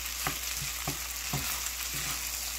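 Rice frying and sizzling in a pan with a constant hiss, broken by four rhythmic scraping strokes as it is stirred, close and alone.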